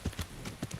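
Horse hooves clip-clop in a video game, a quick uneven series of about six close, fairly soft strikes over a light background bed.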